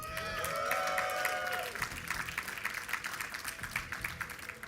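An esports audience at a StarCraft tournament cheers and applauds for player Liquid Sheth, with a swell of crowd noise and yelling that turns into a scattered clatter of clapping, fairly loud and continuous.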